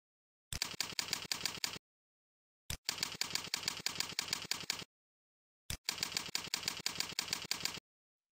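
Keys clatter in three quick, even bursts of typing, each lasting one to two seconds with short silent gaps between, close and crisp.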